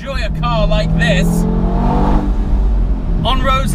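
An Audi TT RS soft top being driven fast on open roads, its engine drone running steadily throughout with someone talking over it.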